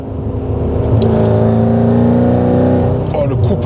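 A Mercedes E55 AMG V8 under hard acceleration, with a loud, steady engine roar that climbs in pitch from inside the car, while people talk over it.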